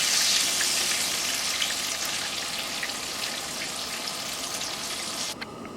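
Fish fries in a pan on a wood stove with a steady, crackling sizzle and bright spitting pops at moderate volume. No one speaks over it.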